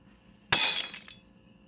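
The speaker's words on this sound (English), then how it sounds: "That's where I'm going to insert the glass breaking noise." A single glass-breaking sound effect: a sudden bright crash followed by about half a second of tinkling shards fading out, close and isolated against near silence.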